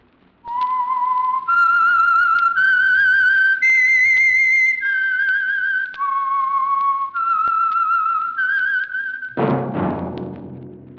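Someone whistles a clear melody as the theme of a 1946 radio program, holding a series of long sustained notes that step up and down, ending in a sudden burst of noise.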